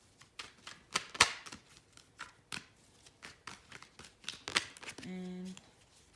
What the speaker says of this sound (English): I've been shuffling those cards already.